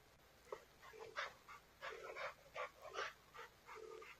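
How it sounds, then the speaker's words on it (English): A dog whimpers and yips in a series of short, faint, high-pitched cries as it suffers a seizure while another dog stays beside it, the sounds coming in irregular bursts close by. "Is that dog apparently dead? no, it's having a seizure."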